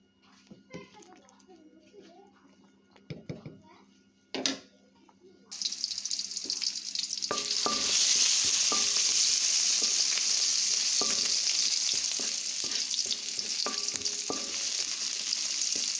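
Onion, garlic and dried chillies fry in a pan for lentil dal with tomato: quiet stirring and clinks at first, then a loud, steady sizzle bursts in and continues, punctuated by utensil taps, with children's voices nearby.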